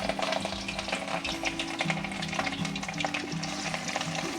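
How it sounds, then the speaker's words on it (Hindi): Fish pieces frying in oil in a kadai over gentle heat, a loud close crackling sizzle with dense bursts of spattering and a low steady hum underneath, no voices. "अब इस मछली इसमें डालते हैं।"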